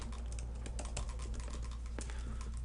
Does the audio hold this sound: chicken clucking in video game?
no